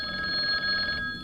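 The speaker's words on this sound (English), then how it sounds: "It was the hotel phone." A hotel telephone rings with a steady electronic trill that runs unbroken, loud and close, then cuts off.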